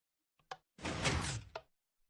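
A door in the game Ratspace 10 slides open and shut: small clicks, then a smooth mechanical whoosh of about a second, closed off by a soft thunk, close and clean with no talking.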